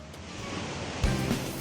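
Ocean surf washing steadily along a shore in Bangka Belitung as children push a shrimp net against the waves, a broad hiss with one heavier wave thump near the end.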